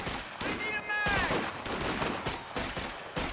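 Infantry gunfire in the World War II strategy game Company of Heroes 2 as Grenadier squads get picked off in a multiplayer match: rapid bursts of rifle and machine-gun fire, close and sharp, cracking repeatedly over a busy battlefield with faint chatter mixed in.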